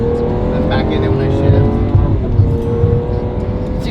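Lamborghini SVJ with a single-clutch gearbox, engine revving hard and loud from inside the car, with sharp bangs and pops as the gears shift, while someone talks over it.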